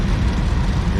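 Antique 955 tractor driving in a farm days parade, its engine giving a steady low rumble close by with no talk over it.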